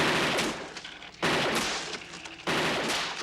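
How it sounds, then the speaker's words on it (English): Gunfire in a scene from the RoboCop film, dense bursts of rapid automatic shots hammering loudly in two or three sustained volleys with short gaps between them. "Peter Weller is RoboCop shooting."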